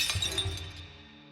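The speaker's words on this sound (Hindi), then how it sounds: "फिर कांच टूटने की आवाज" A sharp burst of glass shattering, loud and close, followed by a brief tinkling of pieces that quickly dies away.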